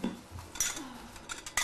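Cutlery and bowls being handled at home, a few light metallic clinks and a ceramic knock close by, short and quiet.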